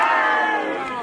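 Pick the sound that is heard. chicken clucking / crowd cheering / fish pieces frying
crowd cheering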